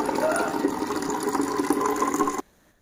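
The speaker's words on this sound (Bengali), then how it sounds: "এইবার এই জলগুলো ভরবো" Water running steadily from a tap into bottles being filled at home, a loud, even gush that cuts off abruptly near the end, leaving near silence.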